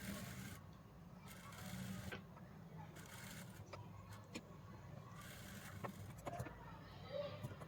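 A sewing machine runs in short stitching bursts on kurti fabric, its faint, rapid whir starting and stopping repeatedly.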